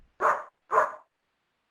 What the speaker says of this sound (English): Yeah, somebody has a dog somewhere.